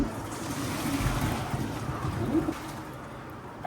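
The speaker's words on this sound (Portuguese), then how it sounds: "Agora aqui, ó, já tá bom o macarrão. A gente vai escorrer." Cooked pasta drained from a pan, a steady rushing pour of hot water splashing into a sink, continuous and fairly close, with no one talking.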